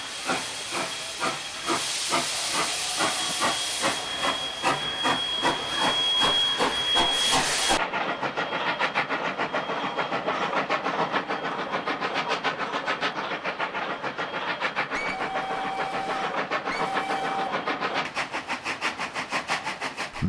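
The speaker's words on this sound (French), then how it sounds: "savourons ces derniers instants de la vapeur avec ces coups d'échappement qui ne résonneront plus dans nos campagnes" Steam 141R locomotive working hard, its rapid rhythmic exhaust beats chuffing loudly alongside constant hissing steam, with a brief whistle tone early on; the sharp beats continue steadily throughout, close and powerful.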